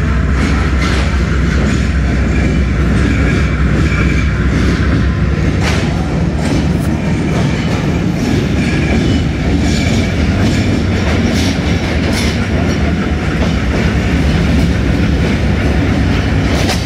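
The Zikriya Express, hauled by GE locomotive 6004, rolls along with a loud, steady rumble and continuous rhythmic wheel clatter, heard up close from on board, with no voices.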